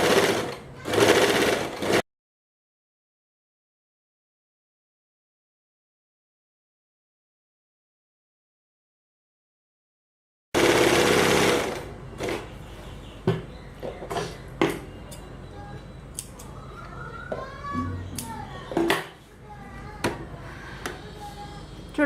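A sewing machine stitches a decorative design onto a salwar pant leg in a short burst, then after a silent gap runs again with rapid, close mechanical chatter and uneven pauses, interrupted by brief clicks.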